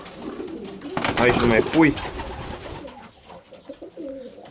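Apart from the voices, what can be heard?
pigeons cooing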